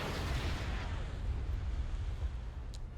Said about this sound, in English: So all of our guys over here firing at this headquarters.